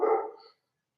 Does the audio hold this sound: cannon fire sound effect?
no